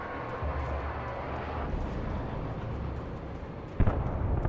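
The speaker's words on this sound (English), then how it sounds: "Oh, the chopper's going down." A helicopter going down in Alan Wake Remastered, heard as a steady roaring engine rumble that ends in a sudden heavy impact near the end.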